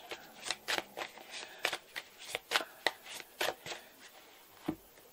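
Tarot cards being shuffled and cut by hand, a run of crisp riffling and flicking bursts in an irregular rhythm, close and fairly quiet, with no talking.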